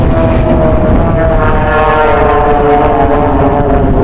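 Blades aerobatic team aircraft flying barrel rolls and aileron rolls toward each other, a loud, steady propeller engine drone with a constant droning tone held close for the whole stretch, no voices.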